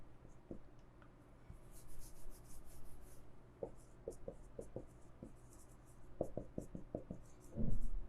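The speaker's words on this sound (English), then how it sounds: "Let me write the question." Pen scratching across paper as a question is written out by hand, a run of short strokes and taps with pauses in between, close and fairly quiet, with no talk.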